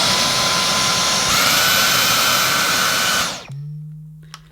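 A Dyson Omniglide cordless vacuum cleaner runs with a loud, steady motor whine for about three seconds, then powers down quickly to a low hum.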